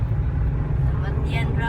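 Road traffic in a jam in Cebu, with a steady low engine rumble from nearby vehicles sounding continuously and fairly loud under a voice.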